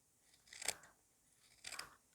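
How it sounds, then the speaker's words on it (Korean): Scissors cutting through quilt lining and cotton batting: two separate crisp snips about a second apart, close and quiet against a silent background. "솜을 잘라줍니다."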